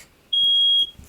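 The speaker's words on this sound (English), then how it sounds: "Here goes the fire alarm again." A smoke-detector-style fire alarm gives a single sustained high-pitched beep lasting about half a second in a quiet room, fairly loud and close.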